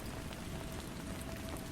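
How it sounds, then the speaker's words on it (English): Gentle rain pattering steadily against windows, an even, soft hiss of drops with no breaks, quiet and continuous throughout. "Rain continued its gentle symphony against the windows"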